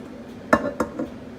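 Rice being moved from a pot into a 9x2-inch Pyrex glass baking dish: a few sharp clinks and knocks of utensil against cookware, three distinct hits spaced under a second apart over a low room hum.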